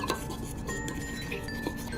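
Pizza dough ingredients (flour, a pinch of baking powder and salt, milk and oil) being mixed in a bowl, with steady clinking and scraping of utensil against the dish, continuous and close.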